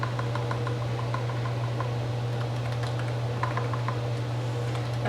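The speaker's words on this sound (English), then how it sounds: "I'm just going to type it." Rapid clicking of keys on a computer keyboard, close up, over a constant low electrical hum, with irregular bursts of keystrokes and no talking.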